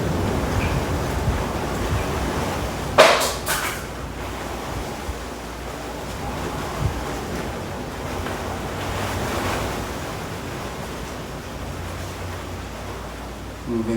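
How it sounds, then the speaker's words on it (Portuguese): Eerie wind blowing steadily, a broad whooshing roar like surf that fills the whole stretch, with a brief gusty burst early on and no clear voice over it. "Um vento sinistro."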